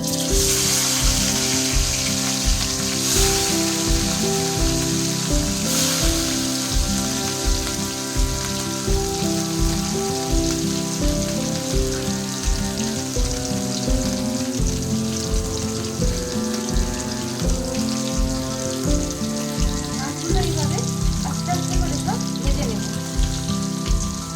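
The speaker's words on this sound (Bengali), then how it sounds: "মাছের তেলটা গরম হয়ে গেছে, এবার আমি একটু একটু করে মাছগুলো ছাড়তে শুরু করব।" Steady, dense sizzling and crackling of fish frying in hot oil for macher kalia, continuous and close throughout.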